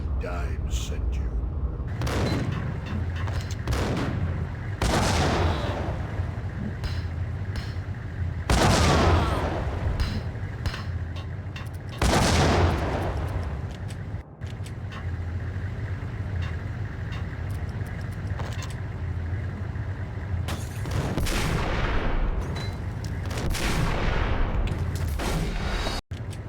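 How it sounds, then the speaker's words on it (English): Gunfire in the Max Payne video game, including shotgun blasts fired from a distance: loud, sharp bursts recur every few seconds over a steady game soundtrack, with talk present. "His shotgun is hitting me from so far away."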